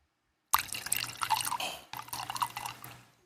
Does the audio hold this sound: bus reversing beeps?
no